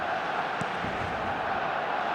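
Steady wall of stadium crowd noise in eFootball, a dense roar of cheering after a Barcelona goal, loud and continuous with a few brief sharper shouts near the start.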